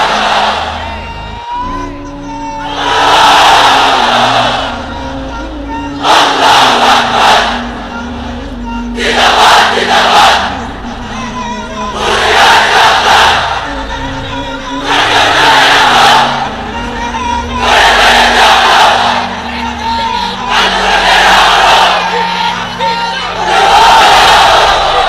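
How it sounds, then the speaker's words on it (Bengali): A large crowd inside a pandal roars the takbir chant again and again, with about seven loud unified shouts, each lasting a couple of seconds and separated by brief lulls. "এবার সবাই মিলে 3টা, এক একটা তাকবীরে যাতে এই প্যান্ডেল কেঁপে ওঠে"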